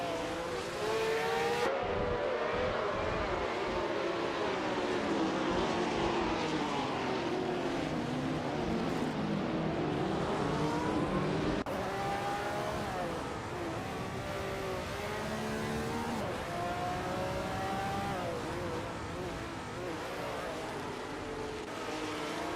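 Race car engines from a racing video game roar steadily and loudly throughout, with rising and falling pitch sweeps as cars accelerate and shift, a dense overlapping drone of several vehicles.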